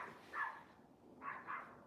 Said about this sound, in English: The neighbor's dog loves to bark.